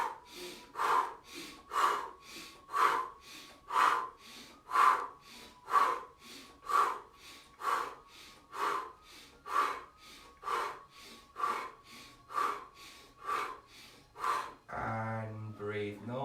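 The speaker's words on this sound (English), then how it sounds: "this is fast abdominal breathing, again, in through the nose and out through the mouth" Fast abdominal breathing sounds close and steady, each breath drawn in through the nose and pushed out through the mouth. About fifteen rapid, evenly spaced breaths fall roughly one per second, and a brief voice is heard right at the end.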